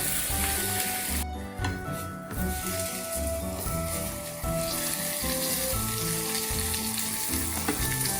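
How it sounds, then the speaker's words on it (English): Salmon fillets fry in avocado oil in a hot pan, a constant bright hissing sizzle that runs the whole time beneath loud background music. "this pan is ready, so I'm gonna just add the salmon immediately"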